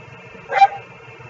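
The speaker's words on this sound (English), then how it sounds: "You can hear that my dogs enjoy glycolysis very much" A single short dog bark or yip rings out indoors over a low background hum, close and brief, standing alone without any talk around it.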